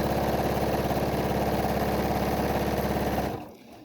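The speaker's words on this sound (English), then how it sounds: "And then I am top stitching on both ends" Sewing machine running steadily while top stitching both ends of a fabric face mask with pockets for inserts, a close, continuous rapid mechanical hum and chatter that stops abruptly near the end.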